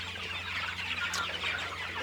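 A flock of chickens on a regenerative farm clucks and murmurs continuously, many birds overlapping in a dense, close chorus with an occasional higher squawk rising above it.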